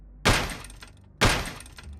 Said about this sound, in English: a violent banging pounded on the bathroom door